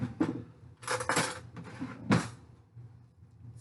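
A pan of pulled pork slid back into a home oven, with a few clattering metal knocks and scrapes at irregular intervals, close and moderately loud, and quieter handling in between.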